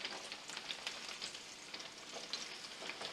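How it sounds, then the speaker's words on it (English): Onions sauté in oil in a pan with a steady, close sizzle and crackle that runs throughout, with no talking. "we're going to just start sauteing them down with just"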